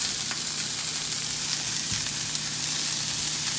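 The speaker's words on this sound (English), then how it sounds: "Just give it a bit of time to saute." A lean beef and spinach meatball mixture sautés in a pan, giving a steady, close sizzle and crackle with a faint low hum underneath and no voices.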